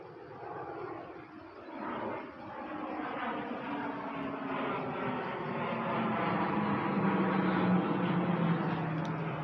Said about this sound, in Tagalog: Dami na nagliliparan na jet fighter ah